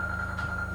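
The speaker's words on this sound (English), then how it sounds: "His phone is ringing." A phone ringing at a beer festival, one short electronic ring tone holding steady for under a second, close and clear with no voices over it.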